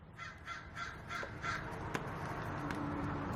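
Outdoors, a crow gives a rapid series of five harsh caws in a steady rhythm, then falls quiet, leaving a low rumbling background with a few sharp clicks.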